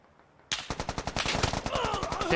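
Rapid automatic gunfire in the military shooter game Squad bursts in suddenly and keeps up a loud, steady rattle of close shots, with a voice and radio chatter rising faintly underneath toward the end.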